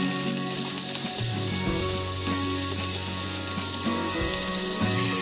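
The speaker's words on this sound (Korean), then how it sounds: "달구어진 프라이팬에 숙성시켜둔 돼지고기를 넣고 볶는데요." Marinated pork stir-frying in a preheated frying pan, a loud, continuous crackling sizzle with scraping and stirring underneath, close up and without talk.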